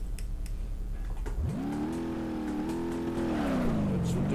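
Truck engine in BeamNG.drive, a work truck built into a mud truck with a manual transmission and 4.10 gears, rising from idle into a steady loud rev held for a few seconds, with a voice talking over it.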